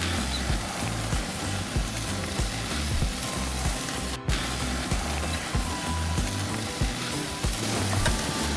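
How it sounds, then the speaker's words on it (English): Filet mignon steaks sizzle loudly and steadily on a clean, oiled grill grate, a dense continuous frying hiss close up with no voices. "We're gonna throw them on the grill."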